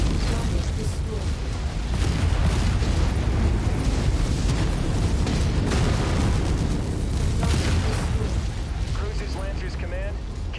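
In the Mechwarrior 5 mech combat game, a destroyed target explodes in a sustained, heavy rumbling blast that roars steadily for several seconds, with a game voice speaking over the din.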